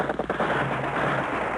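Sniper gunfire in 1945 wartime street fighting, a dense burst of rough, crackling shots and booms from old newsreel audio, loud and continuous with no clear gaps between reports.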